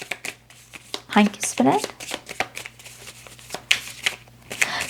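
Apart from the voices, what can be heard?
shuffling tarot cards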